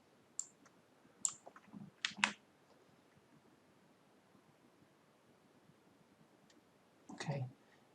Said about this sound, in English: double click